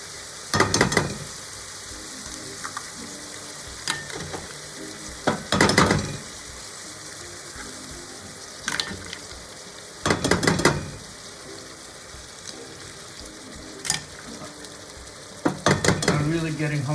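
Whole eggs dropped into a sizzling frying pan, a steady fry hiss with intermittent clinks and scrapes of utensils against the pan at irregular intervals, close by, no talking.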